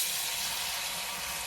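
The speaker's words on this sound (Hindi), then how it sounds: "तो अभी जो शुरू कर लेते हैं मच्छी को फ्राई करने के लिए" Fish frying in hot ghee and oil in a home kitchen, giving a steady, even sizzle with a fine crackling hiss that holds at the same level throughout, close by and with no talking.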